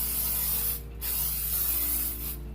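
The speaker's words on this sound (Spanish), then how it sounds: "Le vamos a agregar el aceite en spray." Cooking oil spray hissing from a can into a gelatin mold, two steady close bursts separated by a short pause, with no talk.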